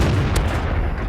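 A tank's main gun fires in the World of Tanks game, a single cannon shot against the dense low rumble of the battle, loud and close, with a brief sharp crack partway through.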